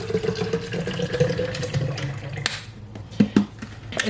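Water pouring out of a reusable water bottle, a fluctuating splashing trickle that is fairly close, interrupted by a few sharp clicks and taps near the end.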